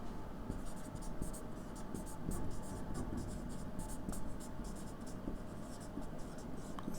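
Pen or chalk scratching out a line of writing during a lesson, a run of quick short strokes in an uneven rhythm over a steady low hum, with a soft voice present.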